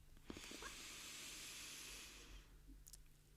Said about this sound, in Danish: Træk vejret ind alt, hvad du kan, gennem næsen.